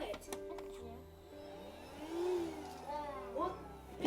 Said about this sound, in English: We're going to hoover the kitchen.